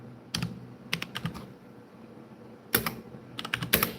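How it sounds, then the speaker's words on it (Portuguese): Bursts of clicking keystrokes on a computer keyboard as a hymn is typed, two quick clusters separated by a pause, close and clear with no voices. "Eu vou digitar aqui um hino rapidinho."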